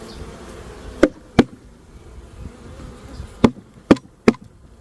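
Honeybees buzzing faintly and steadily while being shifted from one hive to another, with several sharp knocks and thumps against the wooden hive standing out loudly above the low hum.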